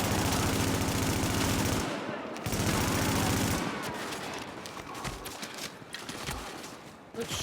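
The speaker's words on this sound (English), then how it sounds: "It's shooting at me." Rapid automatic gunfire from the video game Tom Clancy's The Division rattles in sustained loud bursts, breaking off and giving way to scattered shots and impacts in a busy combat scene.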